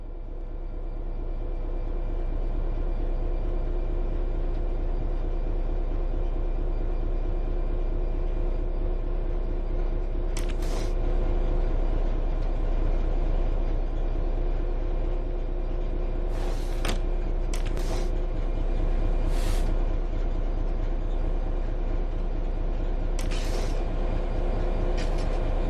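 Train Sim World 3 locomotive pulling away under throttle with power fed to the traction motors, a steady loud low rumble and mechanical drone with several brief hissing bursts, no talk.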